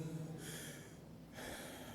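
A voice imitates breathless panting after climbing stairs, with two quick, faint, heavy breaths close to the microphone.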